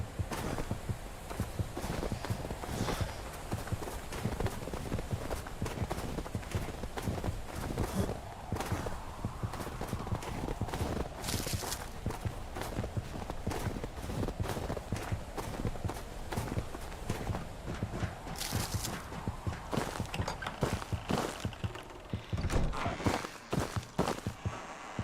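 Steady footsteps crunch and thud in a brisk continuous rhythm through the game Nedra, close and loud over a dense ambient rumble, with brief louder swells along the way and no voices.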